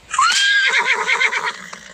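A horse in the Roblox game Empire Clash lets out one loud, close whinny that climbs sharply, then breaks into a long, shaking neigh that slowly fades.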